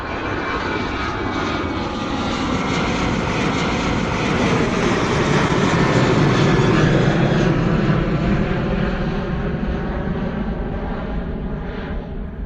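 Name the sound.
Jet2 holiday livery airliner taking off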